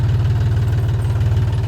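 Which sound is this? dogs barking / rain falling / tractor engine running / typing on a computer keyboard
tractor engine running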